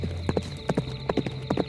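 A horse carrying two riders clip-clops along at a walking pace, several crisp hoof strikes in an even rhythm, close and clear with no voices.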